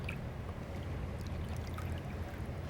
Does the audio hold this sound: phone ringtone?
no